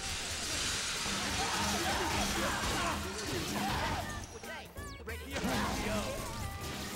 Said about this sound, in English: a bunch of guys just jumped into the glass ceiling